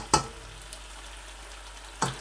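Lamb stir fry cooking on raised heat, with two brief bursts of sizzling and stirring about two seconds apart over a quiet, faint background.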